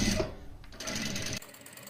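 A Daisen sewing machine stitches cloth with a steady, fast mechanical whir and rattle, running continuously and close, briefly changing pace partway through before carrying on, with no voices.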